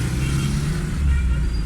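A repaired Suzuki Khyber car with its engine running smoothly, a steady low idle rumble with a slight rise in revs near the end and no talk.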